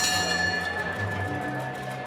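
A boxing ring bell rings before a bout, one clear sustained metallic tone ringing out and slowly fading over crowd and arena noise.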